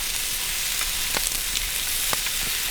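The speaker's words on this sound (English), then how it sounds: "What's you cooking? We're having steak and mushrooms and onions and mashed potatoes." Steady, dense sizzle of steak, mushrooms and onions frying at a lakeside campsite, a continuous loud crackle with a few sharper pops and no talking.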